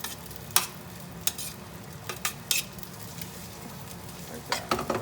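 Rice tinted with saffron and turmeric is stirred into a pan of onions and garlic, with a quiet steady sizzle and several sharp scrapes of a spoon against the pan, heard alone.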